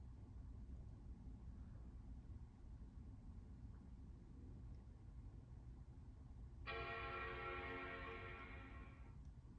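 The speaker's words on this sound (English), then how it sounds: "there's the chime" Classic Mac Pro 5,1 startup chime, a single sustained tone that rings out for about three seconds over a steady low hum of fans, with no talk.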